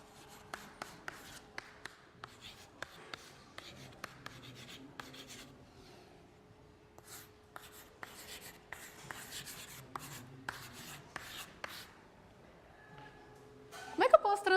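A rule is written on a board during a lecture on bio-inspired algorithms, with sparse scratchy taps and strokes in short bursts, fairly faint and close, and quiet room sound between them.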